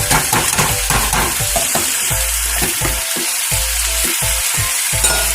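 Onions and vegetable stock for a venison stew sizzle loudly in a pan, with a constant bubbling hiss and repeated scraping stirs close by, and no voices.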